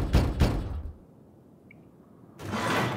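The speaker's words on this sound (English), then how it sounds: "another steel shuttered door" Two quick heavy knocks on a steel shuttered door in the video game Dying Light 2, close and solid, followed by a quiet pause and then a broader rolling thud or shutter movement.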